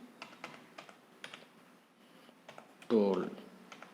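Laptop keys are typed in a quick run of light, close clicks that pause briefly, then a voice speaks over the last moments.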